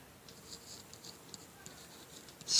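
A teacher writes notes during a 10th-grade biology lesson: faint, intermittent scratchy strokes across a quiet room, ending in a louder burst of noise.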